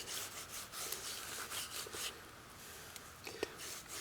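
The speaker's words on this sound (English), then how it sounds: "Take that grit, that clay, and just grind it right into your belt, just like this." Clay grit being ground and rubbed into a leather stropping belt outdoors, a steady scratchy rubbing with repeated strokes, fairly close and moderately quiet, with a few sharper scrapes near the end.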